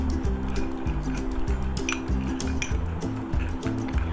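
A spoon scrapes and clinks in a bowl while stirring a thick lemon-juice face-pack paste, in a fast repeating rhythm close by.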